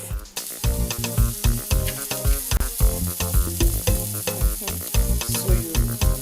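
Ground beef frying in a pan gives off a busy sizzle with repeated stirring scrapes, loud and close, pulsing in an uneven rhythm throughout.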